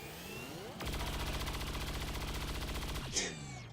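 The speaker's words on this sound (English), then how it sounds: "2 shots dodged in a row" A sustained burst of rapid automatic gunfire in XCOM 2: War of the Chosen, dense evenly spaced shots lasting over two seconds, loud and close, then a sharp ringing tail as it stops.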